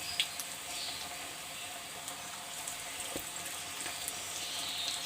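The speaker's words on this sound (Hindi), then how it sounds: "इस तरीके से मैं दूसरे भी तल लूँगी।" Lachha pakoras fry in hot oil with a soft, steady sizzle and faint crackling pops, quiet and continuous with no talking.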